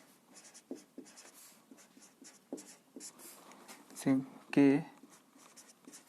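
Pen or chalk writing in short scratchy strokes during a tense-grammar lesson, faint and intermittent, with a voice speaking briefly near the end.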